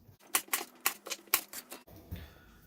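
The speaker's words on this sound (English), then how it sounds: "I've got a navel orange here that I'm just going to cut up into eighths, like so." A knife slices a navel orange into wedges on a cutting board, giving a run of sharp, close, crisp cuts about every third of a second, then a softer rustle as the pieces are moved.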